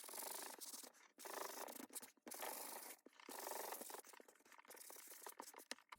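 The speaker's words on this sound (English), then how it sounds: "we've got them sanded front and back" Plastic-coated playing cards sanded by hand, a close, quiet rhythmic rubbing and scratching in repeated strokes with brief pauses between them, and no voices.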